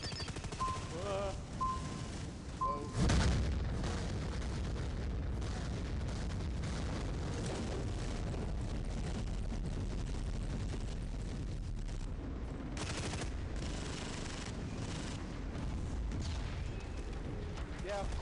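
Battle noise in the online shooter Dust 514: continuous booming bombardment and rattling gunfire fill the scene, with a heavy impact near the start and another burst later, while people talk over the din.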